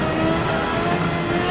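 A Suzuki Escudo race car tuned to 700pp in Gran Turismo 7 accelerating, its engine a loud, steady, close roar that runs without a break and with no voices.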